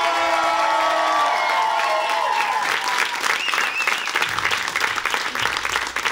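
A comedy radio show audience on Radio Nova breaks into loud, sustained applause and cheering for comedian Richard Sabac, close and full, with a short musical sting fading beneath the clapping at the start.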